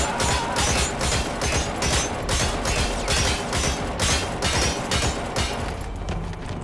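Enemy soldiers open fire in Metal Gear Solid 5, a rapid series of sharp gunshot bursts repeating at a steady rhythm for several seconds, moderately loud with no talk over it.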